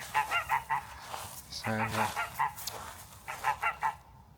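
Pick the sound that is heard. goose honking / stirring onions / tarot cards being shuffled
goose honking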